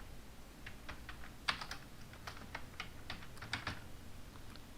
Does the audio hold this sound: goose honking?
no